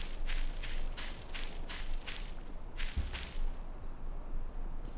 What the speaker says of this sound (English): I feel like I just heard footsteps on the other side of this fence.